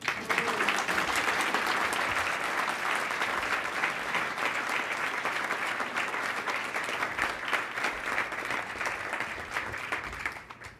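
A crowd at the Canadian Club of Toronto applauds steadily for about ten seconds to welcome Don Newman, a dense, even clapping that fades slightly at the end.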